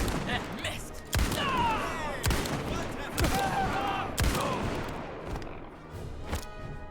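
Gunfire in Indiana Jones and the Great Circle, with four loud, sharp shots spaced about a second apart over a busy game soundscape, close and punchy, while someone talks in between.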